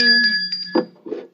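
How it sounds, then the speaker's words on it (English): A small bell dings a few times, ringing out with a clear tone for a correct answer on a weather show contest, with brief murmuring after the rings. "He gets the bell."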